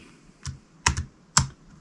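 Three quick clicks of computer keys being pressed for a keyboard shortcut, with the last two taps close together and then a final press, crisp and close in a quiet room.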